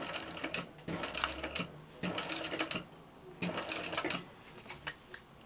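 A sewing machine stitches across the final slanted edge of a backpack, running in several bursts of rapid mechanical clatter separated by brief pauses, close and steady.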